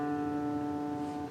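A single sustained D string note rings out as a tuning reference, a steady harmonic-rich pitch held for about a second and a half before being cut off, clear and close with no talk.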